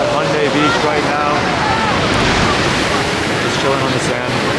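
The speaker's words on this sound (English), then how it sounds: "Waves are hella soothing." Ocean waves washing onto the sand at Haeundae Beach in Busan, a broad, steady surf roar mixed with wind buffeting the microphone, loud and continuous.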